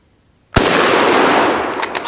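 A single German Mauser Kar 98K rifle fires outdoors, one sharp, very loud crack followed by a long rolling echo that fades over more than a second.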